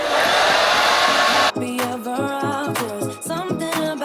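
A hair dryer blows on a very low setting with no heat while drying a child's curly hair. It gives a loud, steady whoosh for about a second and a half, then music abruptly takes over.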